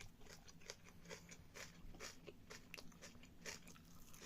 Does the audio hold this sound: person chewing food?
yes